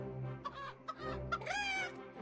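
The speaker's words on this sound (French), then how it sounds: "Le poulet." Chicken clucking emote in the mobile game Clash Royale, a short burst of cartoonish clucks and a rising squawk over quiet game music, loud and close.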